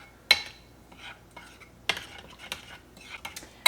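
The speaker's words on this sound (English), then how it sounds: "then we'll mix this together" Spoon scraping and clinking in a bowl while mixing lasagna filling ingredients, irregular sharp taps and rubs close up, with quieter stirring between them.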